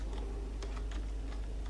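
Several light key clicks on a computer keyboard, someone typing a short message, sparse and irregular over a steady low background hum.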